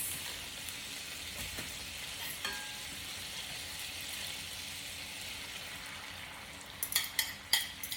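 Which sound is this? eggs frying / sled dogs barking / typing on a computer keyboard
eggs frying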